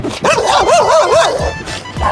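A dog gives a short, wavering whining bark, close and loud, lasting a couple of seconds.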